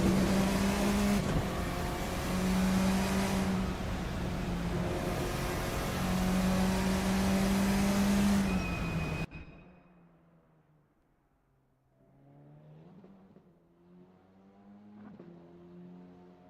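Formula 4 racers finishing at Melbourne in the Assetto Corsa sim: a loud, continuous revving engine with shifts cuts off sharply midway, followed by softer, more distant engine drones, and no talk.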